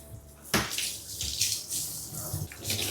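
Tap water runs steadily into a shower or tub as clay is rinsed from braided hair, a close, broadband splashing that starts abruptly after a brief quiet moment and continues with uneven surges.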